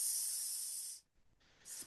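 A voice imitating the hiss of a spray bottle, a steady breathy hiss lasting about a second, a brief pause, then a second shorter hiss, close and fairly quiet with no talking.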